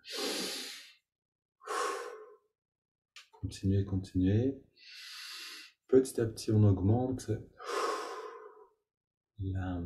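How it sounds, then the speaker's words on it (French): Deep, slow breaths drawn in and pushed out during a yoga breathing exercise, about five loud airy breaths close to the listener, alternating with a man's calm spoken instructions. "20-25 respirations profondes"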